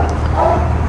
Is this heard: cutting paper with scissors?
no